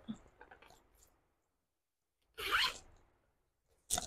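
Two quick zipper pulls rasp close up as the single zip on an off-white handbag is opened, separated by a silent pause, after some faint soft rustling at the start.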